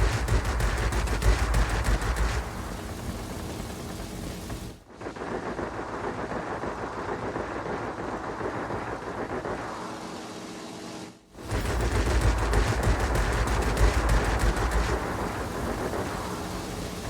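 Aircraft machine guns hammer away in World of Warplanes, a dense, loud, continuous rattle of rapid fire in sustained bursts, broken by two brief pauses before the firing resumes.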